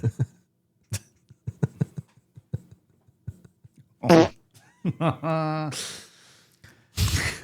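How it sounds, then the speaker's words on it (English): A sputtering fart with a gasp, a sigh and breathy snorts among scattered short clicks and taps, close and intermittent, followed by a long, drawn-out buzzy blast and a final burst of noise. "Who farted?"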